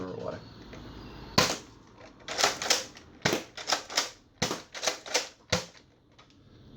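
A toy dart blaster is handled, primed, loaded and fired, giving a close run of sharp plastic clacks, snaps and thumps in an uneven rhythm, loud against a quiet room.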